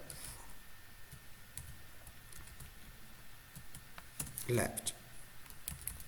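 Light keyboard typing while coding a binary search tree program, with scattered soft clicks under a speaker's talk and a brief spoken word near the end.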